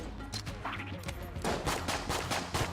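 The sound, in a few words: gunshots in video game Enter the Gungeon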